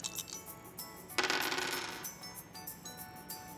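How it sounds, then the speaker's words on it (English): Three dice tumble and clatter across a hard surface in a burst of rattling clicks lasting under a second, with a few lighter taps before and after. "Now I'm gonna re-roll these 3."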